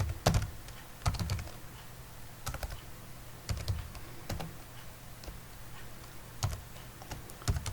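Numbers are entered into an Excel spreadsheet on a computer keyboard in irregular clusters of close, clicky keystrokes separated by brief pauses, with no talking.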